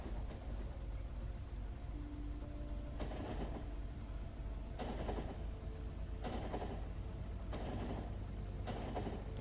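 Train rolling along rails in Factorio, a steady low mechanical rumble with periodic bursts of brighter clattering noise recurring every second or so, fairly continuous and close, with no talking.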